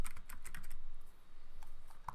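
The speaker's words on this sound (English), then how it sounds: "I'm just going to type in KalikaFX.com." Fast, light typing on a computer keyboard, a steady run of close, quiet key clicks with a brief slowdown partway through.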